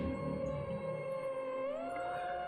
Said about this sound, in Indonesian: Suara aungan macam serigala dan juga desisan macam ular menyelimuti ruangan yang sunyi itu